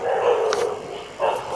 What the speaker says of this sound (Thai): หมาหอน หมาเห่า